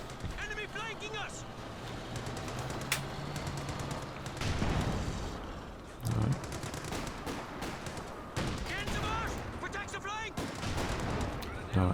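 A Cromwell tank firing in Company of Heroes 2 while moving: repeated booming shots among dense battle gunfire and explosions, under a steady stream of commentary.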